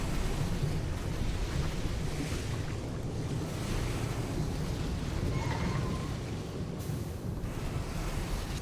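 Rising water in the Baldur's Gate 3 video game, a steady, soft rushing wash like surf, continuous and even with no voices.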